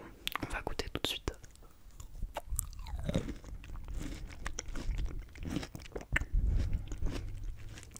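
Soft, close crunching and wet chewing of clementine pulp, stripped of its membrane, in irregular bites, with quiet whispered speech mixed in.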